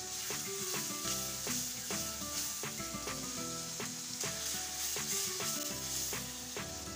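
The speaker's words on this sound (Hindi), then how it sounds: "इस सारे मसाले को हम 2 से 3 मिनट फ्राई करेंगे।" Spices and vegetables for a potato and eggplant dish fry in hot ghee with a steady, loud sizzling hiss, under rhythmic background music.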